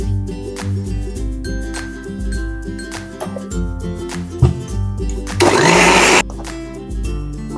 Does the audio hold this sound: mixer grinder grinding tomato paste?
yes